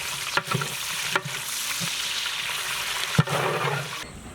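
Sliced onions tossed into roasting spices and garlic for South Indian vegetable sambar sizzle steadily in hot oil, with a few sharp scrapes and clanks of a stirring spoon against the pan.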